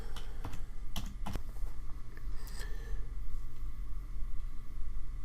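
A computer mouse clicks sharply several times in the first second and a half, then a few softer scattered clicks follow over a low steady room hum.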